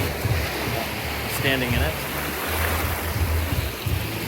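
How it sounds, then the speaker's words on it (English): Ocean waves in the Bahamas wash in a steady, broad rush of surf close by, while a person speaks briefly over it. "That's the ocean."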